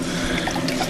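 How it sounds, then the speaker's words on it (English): Steady churning splash of water from an eductor in a 32-gallon Brute saltwater mixing station breaking the surface, a continuous close bubbling trickle with no pauses. "I still want a little bit of water coming out of here to break the surface to kind of aerate the water"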